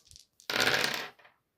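Dice rolled for a Fallout Factions tabletop wargame shot, a quick rattle and clatter tumbling across a hard surface for about half a second, then settling, with no talking.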